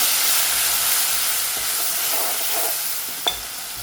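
Spices stirred into peas frying with ginger-garlic paste in a hot pan give a loud, steady hiss and sizzle, with faint scraping stirs beneath and a brief sharp clink near the end. No one speaks.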